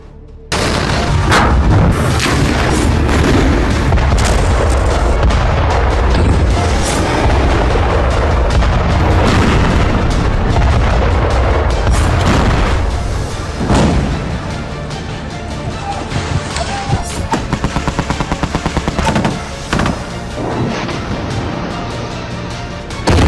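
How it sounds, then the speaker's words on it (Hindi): Bombing and gunfire in Gaza around a hospital, a sustained loud barrage of heavy booms, explosions and cracking rapid shots that overlap almost continuously, close and intense with no speech. "गाजा जल रहा है, इजराइल लगातार बम बरसा रहा"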